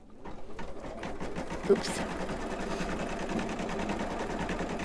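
Home embroidery machine stitching out a gingerbread man design, a steady rapid needle chatter running throughout with a brief sharp knock midway, while someone speaks briefly over it.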